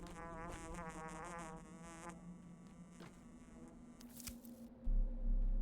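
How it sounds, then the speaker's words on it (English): Fly buzzing used as the herb-finding cue in the video game Pathologic 2, a close, steady insect drone with a wavering pitch lasting about two seconds and then fading into other quiet game sounds. "Okay, so it's the fly buzzing. That's the sound to listen for herbs."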